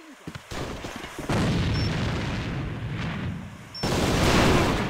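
A grenade goes off in a multiplayer video game: loud, booming, rumbling blasts arrive in two surges over sustained battlefield noise, close and heavy.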